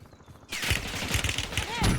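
Gunfire in a Call of Duty Warzone firefight, rapid bursts of shots crackling at mid distance in a continuous volley, with a voice faintly heard underneath.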